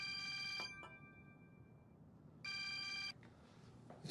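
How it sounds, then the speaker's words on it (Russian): Phone ringing with an incoming call at night: two bursts of an electronic ringtone separated by a quiet pause, fairly close, with no talking. "Ибо звонит тебе"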